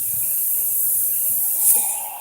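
An espresso machine's steam wand hisses steadily while steaming milk for a latte, with a brief louder surge near the end.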